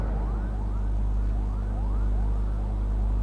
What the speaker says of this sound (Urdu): یہ سائرن کس کے لیے بج رہے ہیں؟